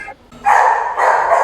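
Dogs at an animal protection shelter in Réunion bark and yip from their cages, a short burst followed by sustained, fairly loud barking that fills most of the moment.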